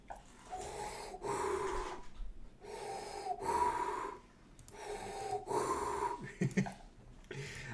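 A person imitates Darth Vader's mechanical respirator breathing: slow, rhythmic, raspy inhales and exhales repeated about five times, close and fairly loud.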